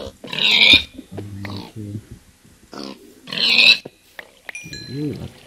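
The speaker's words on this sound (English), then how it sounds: "I do see pigs." Pigs in the Minecraft video game give short oinking grunts amid speech-like chatter, with two louder bursts and a low, harmonic call near the end, fairly close and moderately loud.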